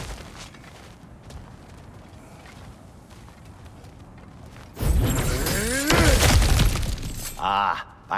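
A smash through cracked ground in God of War Ragnarok: a loud crunching, shattering impact with scattering debris follows a stretch of quieter ambience, and someone speaks over it.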